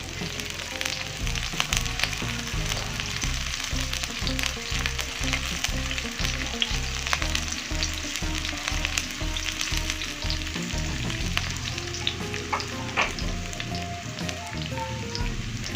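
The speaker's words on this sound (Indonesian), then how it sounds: "Masukkan bawang merah dan bawang putih. Tumis sampai mengharum." Loud, steady sizzling of shallots and garlic frying in hot oil fills the pan, with occasional scraping stirs, close and continuous without speech.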